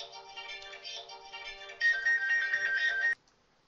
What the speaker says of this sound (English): my phone's ringing off the hook